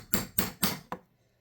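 Four sharp metallic taps from a hammer striking a brass punch to drive a pin flush on a revolver, evenly spaced and close, the last one lighter, then quiet.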